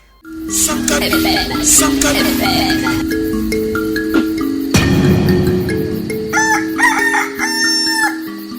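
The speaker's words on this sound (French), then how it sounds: "Le coq a chanté et le soleil s'est levé" A rooster crows repeatedly in several loud, drawn-out calls over a steady backdrop of music, heard clearly throughout.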